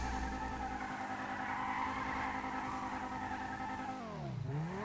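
A Viper sports car in GTA V holds a steady roaring engine note while driving, then the pitch drops sharply and climbs again as it shifts or lifts off through a corner.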